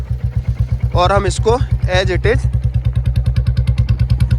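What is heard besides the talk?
Royal Enfield motorcycle engine starting on cold start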